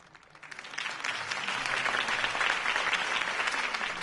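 Applause in the video game Batman: The Telltale Series swells from a few claps into a steady, dense round of clapping from a sizeable crowd, holding strong to the end.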